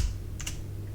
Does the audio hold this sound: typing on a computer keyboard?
yes